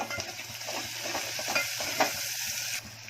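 Garlic fries in oil until golden for a Konkani thali alongside curry leaves and chopped coriander, a dense crackling sizzle broken by stirring scrapes and clicks, with no voice.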